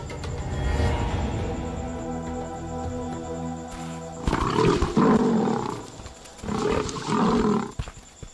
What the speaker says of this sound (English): Yet another lion.